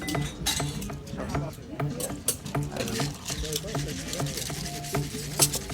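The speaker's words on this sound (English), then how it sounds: "With the inviting sound of a cocktail shaker filled with ice and the clinking of martini glasses" Ice rattles in a cocktail shaker while martini glasses clink, giving bright, rapid metallic and glassy clinks in a busy rhythm under a voice talking.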